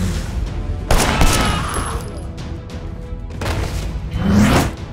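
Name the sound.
gunfire from the video game Sleeping Dogs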